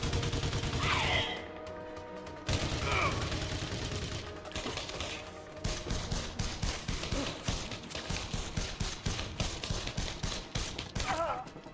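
Rapid gunfire in Elite Dangerous rattles out in dense bursts, with short pauses near the start before steady repeated shots carry on to the end at a fairly even loudness.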